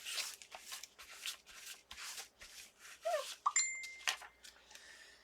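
A phone notification chime sounding during a quiet tag-making craft session, two or three brief bright tonal pings standing out over soft rustling and handling noises, fairly close and moderately loud.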